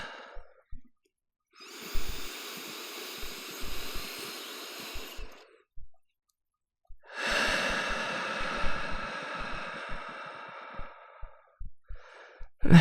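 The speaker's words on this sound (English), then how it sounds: "Another deep breath." Two long, slow breaths, each a broad airy whoosh lasting several seconds, close and soft, separated by quiet pauses, with a faint short breath near the end.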